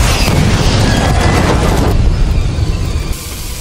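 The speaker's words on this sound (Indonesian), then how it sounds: "Dia pun menembak pria itu hingga seketika berpindah alam." A gunshot in an action film, where a man is shot by a mercenary, lands as a loud, heavy boom with a long rumbling tail that slowly fades away.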